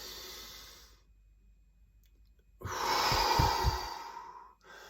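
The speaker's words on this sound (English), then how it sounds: "I always take a big deep breath in" A person sitting upright in meditation takes one slow, deep, audible breath in close to the mic, preceded by a softer exhale and quiet pause, with no speech.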